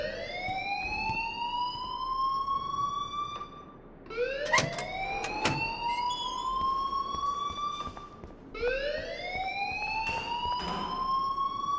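School alarm in the game Life is Strange Remaster: three loud, close electronic wails, each sweeping upward and then holding, with brief gaps between them and a few sharp clanks in the background.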